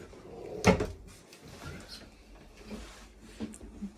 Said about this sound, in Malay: Oh, pintu berlipat.